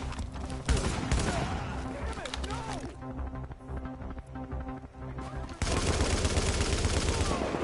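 Rapid bursts of video game gunfire, loud and continuous with dense crackling shots, alongside a voice talking throughout.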